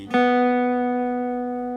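A single acoustic guitar note, string three at the fourth fret, is plucked once and rings clearly, sustaining and slowly fading, heard alone without talk.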